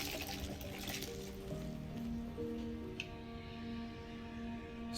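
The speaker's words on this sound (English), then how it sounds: "Flushing the toilet." A toilet in Hogwarts Legacy flushes with a steady rush of water over a low tonal hum, continuous for several seconds at modest volume.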